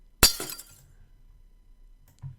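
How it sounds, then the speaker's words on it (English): A single sharp crash of glass breaking bursts out near and loud, then bright fragments tinkle and scatter briefly before fading into near silence with a small soft knock at the end. "get something like glass breaking."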